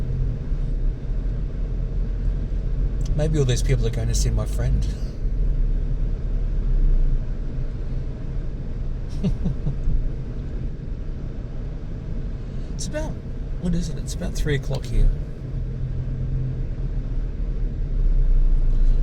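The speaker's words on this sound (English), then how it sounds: "And I was not expecting this traffic." Steady low road rumble of a car driving down a coastal road in traffic, continuous throughout, with people talking over it inside the vehicle.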